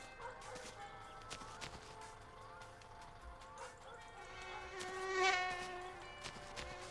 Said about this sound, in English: Ah, the mosquito. I don't mind the mosquito.